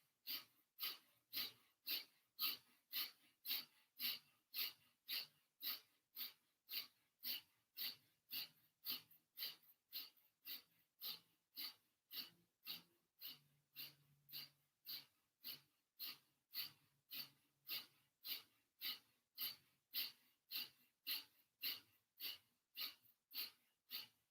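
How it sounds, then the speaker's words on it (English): Rapid rhythmic breathing through the nose during a hatha yoga exercise, sharp even exhalations repeating about once a second, close and quiet with no talking. "And now fast breathing through the nose."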